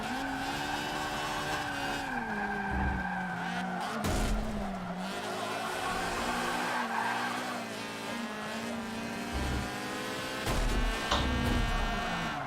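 A race car in Forza 7 skids and spins out, tires squealing in long wavering tones over a continuous high-revving engine drone, with repeated bursts as the car slides and recovers.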